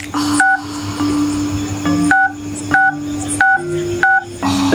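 Telephone keypad tones while dialing a number, a series of about eight loud, crisp two-tone beeps in a quick irregular rhythm, each short and separated by brief gaps.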